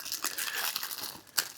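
Plastic bag packaging crinkles and rustles steadily while a portable DAC and amplifier case is unboxed, close and continuous with a sharper crackle near the end.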